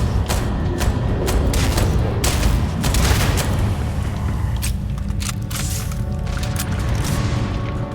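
Rapid pistol fire from a Starfield firefight on Mars, with dense bursts of sharp shots and booms rattling close and loud throughout, no pauses.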